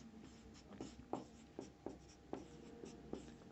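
Chalk or marker writing a section formula on a board in a classroom: soft, close, irregular strokes and taps, several short scratches in an uneven rhythm, no talk.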